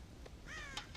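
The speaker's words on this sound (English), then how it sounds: "God damn crows!" Crows cawing on a farm in Red Dead Redemption, a short harsh caw followed by a longer drawn-out call and another brief burst, close and clear over quiet ambience.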